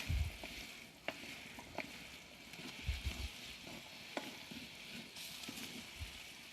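Prawn masala curry sizzling in a pan on a Kamado Joe ceramic grill, a steady close frying hiss with occasional clicks and scrapes of stirring.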